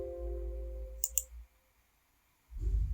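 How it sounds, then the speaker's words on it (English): Two quick computer mouse clicks, crisp and close, heard over a low hum that drops away into near silence before the hum returns. "click on delete volume"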